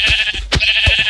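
Sheep bleats from a survival video game as the animals are killed, a few short, close, rather loud cries in quick succession over steady game background noise.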